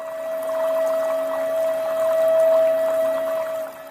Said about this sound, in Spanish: El agua baja con toda su fuerza por estos grandes tubos